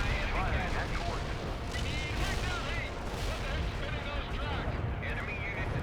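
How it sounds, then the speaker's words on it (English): Artillery barrage in the World in Conflict strategy game, a dense, continuous rumble of heavy impacts and blasts rolling on throughout, with radio-style voices speaking over the battle noise. "Artillery is about fire at coordinates."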